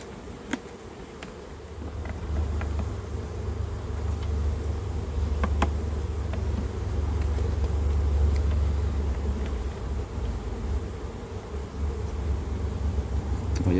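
A dense, steady drone of honeybees swarming around honey-filled hive frames in an open beehive, with occasional faint clicks and knocks over the continuous buzz.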